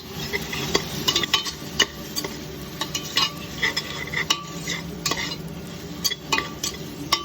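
Green chillies and tomato stirred and fried in a pan for mutton paya curry, with a spoon scraping and clinking against the pan in irregular strokes over a steady sizzle.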